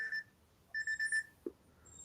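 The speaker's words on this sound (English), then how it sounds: "Sorry, my alarm." A phone alarm rings in short electronic tone bursts, one near the start and a longer run of repeated beeps after a pause, then a faint closing tone, fairly quiet against a near-silent background.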